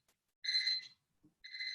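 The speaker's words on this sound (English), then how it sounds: "my thermometer is making an alarm" A thermometer alarm gives two bursts of electronic beeping, close and fairly quiet, with a brief soft knock between them and no talking.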